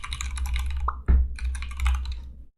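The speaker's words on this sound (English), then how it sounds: "I'm typing that URL so we can go back in time enough" Someone types a URL on a computer keyboard in fast, close bursts of clicking keystrokes, with a short break and a single heavier thump midway before the rapid typing resumes.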